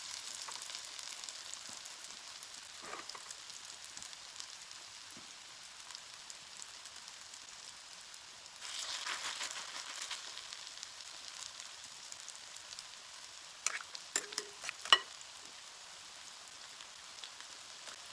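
Zucchini latkes fry in a pan with a steady, soft hiss of oil, a brief louder sizzle midway and a few small pops and crackles near the end.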